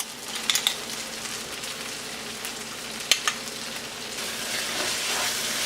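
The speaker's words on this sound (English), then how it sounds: "roast it till the raw taste of the masala, everything is gone" Masala and chicken roast in oil for a Kerala-style nadan chicken roast, with fenugreek powder, pepper and garam masala. The pan gives a steady frying sizzle and hiss, with a few sharp crackles and spatters near the start and just past three seconds.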